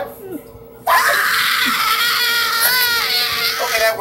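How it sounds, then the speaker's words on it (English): A loud, sustained scream from a jump-scare sequence bursts in abruptly after a quiet moment and carries on for several seconds, wavering in pitch like a shrill cry, with faint voices underneath. "See, that's Jeff's scream."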